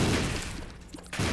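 Explosions and gunfire in a video game crash out in loud, dense bursts at the start and again near the end, with a quieter gap between them.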